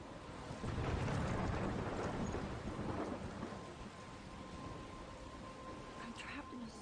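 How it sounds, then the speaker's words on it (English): Storm wind roars in Life Is Strange, a dense, steady rush with rain-like noise that swells early and stays loud throughout, with a voice faintly talking. "I'm trapped in a storm?"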